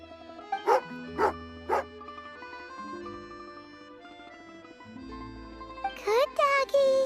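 A dog gives three sharp barks close by, then a pause filled with soft background music, followed by a quick burst of higher yelping barks near the end.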